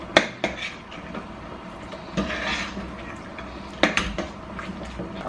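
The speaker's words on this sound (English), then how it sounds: "So I'm going to add the peanuts." Peanuts dropping into a pot of boiling corn soup make a few sharp clinks and clatters against the metal, over a steady low bubbling simmer, close up with no talk.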